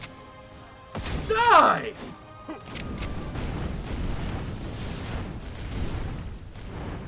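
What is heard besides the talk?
shotgun firing in video game Skul the Hero Slayer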